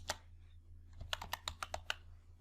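Keys tapped on a computer keyboard while entering names into a spreadsheet: one early keystroke, a pause, then a quick run of about eight crisp clicks, close and quiet.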